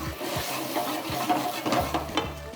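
Cooked chana and paneer are tossed in a pan with soft scraping, stirring and a light sizzle, a few short bursts of movement close by with no talking.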